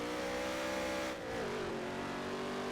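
A race car engine in NASCAR Heat 3 on a dirt road course revs steadily, then drops pitch after a downshift and settles into a lower drone. It stays loud and continuous throughout, with no talking.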